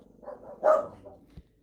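A dog gives a brief muffled bark or two at a moderate distance indoors, a short burst with a faint thump after it and no speech.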